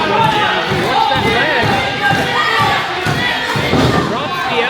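Wrestling arena crowd roars steadily in support of Billy the Kid, a dense continuous wall of cheering and shouting with occasional thuds, loud and close throughout.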